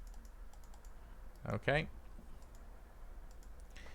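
Typing on a computer keyboard during TypeScript coding: a steady run of quiet, close key clicks, with a brief spoken word in the middle.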